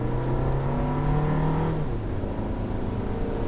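A 2019 Volkswagen Tiguan SEL Premium with a 2-liter 4-cylinder engine accelerates in manual mode, its engine note climbing steadily in pitch, then dropping as it shifts and begins rising again, heard from inside the cabin.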